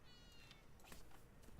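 A house cat meows faintly in a room, one short, quiet call over low background hiss.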